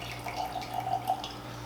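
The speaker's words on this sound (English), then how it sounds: "So yeah, so we're gonna pour." Jack Daniel's Distillery Series rye whiskey trickles into a glass in a thin, faint, gurgling pour. It sits over a steady low hum and lasts under two seconds.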